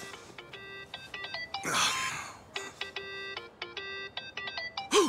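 A cheerful electronic phone ringtone plays in the video game Like a Dragon: Infinite Wealth. Bright chiming notes repeat in quick rhythmic phrases, broken once by a louder noisy rush midway.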